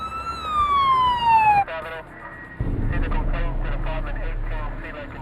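An ambulance siren wails close and loud, its high tone sweeping downward for about a second and a half before cutting off, followed by a person speaking over low background rumble.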